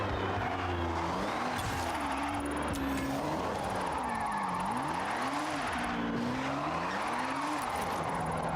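Tires squeal and skid as a car in Forza Horizon loses control at high speed and spins out, a loud, continuous screech with wavering pitch over a steady engine drone.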